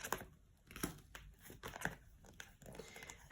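Tarot cards being drawn and handled during a reading, giving a run of close, quiet crinkles, riffles and slaps in irregular bursts, with no voices.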